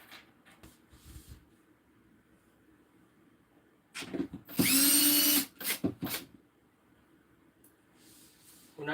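A power drill drives screws into a Husky desk in one short whirring burst that rises in pitch. Quiet clunks and handling knocks from the assembly come before and after it.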